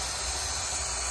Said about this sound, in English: Release the whole steam.